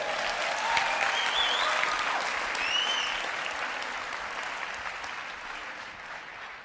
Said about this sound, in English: Give Albert a big round of applause, will you?